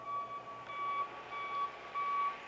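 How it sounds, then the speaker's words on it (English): Vehicle backup alarm heard faintly at a distance as a thin, repeated high electronic beep that rises and drops out a few times over a low background hum, with no one speaking. "See, that's the kind of a backup alarm I want to put on the John Deere in Big Red."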